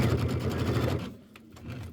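A mechanical sewing machine stitching a quilt runs steadily with a fast, continuous whirring hum, then pauses briefly and starts up again; close and fairly loud, with no talk.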